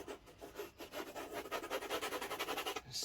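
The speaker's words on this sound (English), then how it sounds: "Right, so now scrape off any of this excess paint." A palette knife scrapes excess oil paint off canvas in a wet-on-wet landscape painting, giving close, rhythmic rasping strokes that quicken into a steady back-and-forth scrub.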